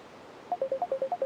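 A mobile phone ringtone plays alone: a quick run of about eight short, bright, evenly spaced melodic beeps that start after a brief pause.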